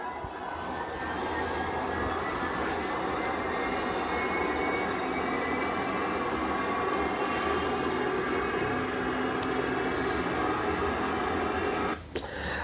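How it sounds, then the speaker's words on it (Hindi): Several Shahed kamikaze drones fly over the aircraft carrier USS Abraham Lincoln, a loud continuous engine drone that holds steady throughout, ending in a brief sharp crackle. "ये शाहिद ड्रोन और कामिकाजे जैसे ड्रोन है, और एक दो नहीं कई ऐसे उड़ाए जा रहे हैं।"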